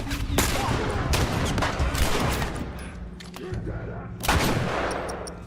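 Rapid gunfire crackles in a video game as Ellie and Maria shoot at an enemy, with repeated sharp shots and bursts over several seconds and a loud volley near the end.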